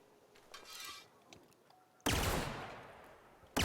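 Bolter pistol from the video game The Outer Worlds firing, a loud sharp blast with a long ringing decay followed by another abrupt shot, after quieter handling sounds.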